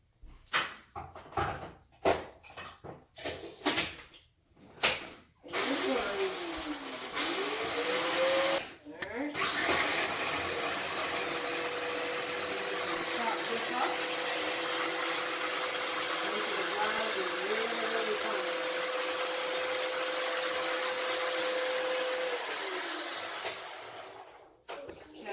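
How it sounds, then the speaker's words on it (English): A kitchen blender blitzes seasonings for cheesy garlic bread in a long, loud, steady whir lasting about fifteen seconds, preceded by clatter and handling knocks and ending as the motor winds down. "I'm going to go and blitz this and let's see what we come up with."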